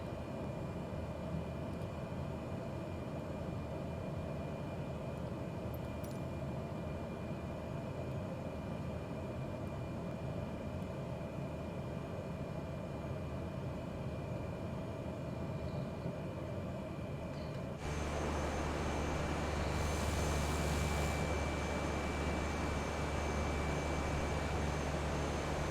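Cessna aircraft engine in Microsoft Flight Simulator 2020 on a flight from Hobart to Launceston, a quiet steady hum that shifts to a lower, louder drone near the end.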